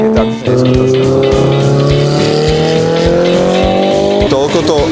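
Race cars roar loudly around a track in Las Vegas, engines revving steadily with rising pitch and tires squealing as they drift, a continuous close, dense motor sound throughout.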